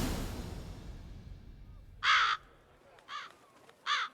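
Crows in The Witcher 3 caw in three harsh, separate bursts, each a short cluster of rasping calls standing out against a faint, hissy ambient background with no talking.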